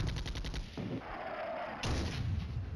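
Artillery and gunfire in the wargame Flashpoint Campaigns Red Storm, dense rumbling barrage with booming impacts and crackling shots, loud and continuous throughout with no voices.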